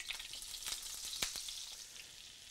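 Butter and grease sizzle in a hot cast iron skillet for chili: a close, steady hiss of frying with scattered crackles and pops, and no voices.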